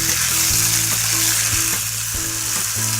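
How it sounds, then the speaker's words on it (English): A flatbread wrap sizzles loudly in a very hot pan, a steady close frying hiss with faint scraping underneath and no voices. "Okay, this pan is really nice and hot. So I'll put on the first wrap."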